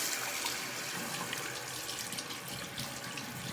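Tap water runs steadily into a sink as charcoal soap lather is rinsed off hands, a continuous broadband splash with no pauses, close and fairly loud throughout.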